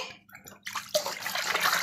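Water splashes as a small child is bathed. Quiet drips come first, then a sudden burst of splashing and sloshing that continues close by.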